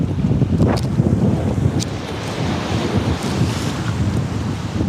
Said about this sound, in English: hopefully y'all can hear me through these waves